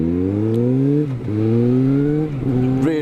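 A motorcycle rides the open roads around Shropshire and the Long Mynd, its engine droning loud and close, dipping and rising through gear changes with a clear, repeated rev pattern.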